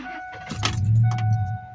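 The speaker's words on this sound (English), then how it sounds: "this truck, it'll start up every time" A Ford F-150 pickup truck engine cranks and catches, settling into a steady low rumble at close range, with a faint jingle of keys near the start.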